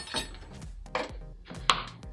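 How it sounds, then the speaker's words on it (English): Chocolate chips being roughly chopped with a knife on a cutting board in a kitchen: three or four separate sharp clacks and crunches of the blade hitting the board, close by, with short quiet gaps between them. "we're just gonna roughly chop them with a knife"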